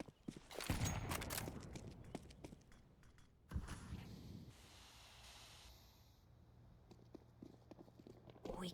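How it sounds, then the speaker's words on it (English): Footsteps in the game Counter-Strike during an ESL Challenger League match, a faint run of soft rhythmic steps beneath a louder burst of gameplay noise and a sharp impact, tapering to quieter steps later. "you can hear the footsteps."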